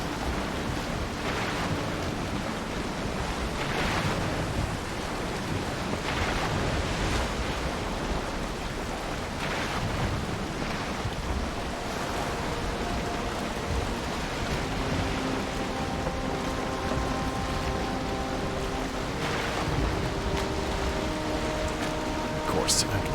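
Steady wash of sea waves and wind around a sailing boat in a video game, constant surf-like rushing noise throughout with faint tonal game sounds drifting in, and no gaps.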